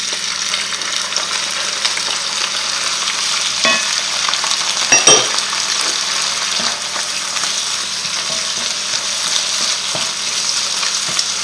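Mushrooms fry in a pan, giving a steady, dense sizzle that carries on throughout, with a few sharper crackles and utensil stirs near the middle.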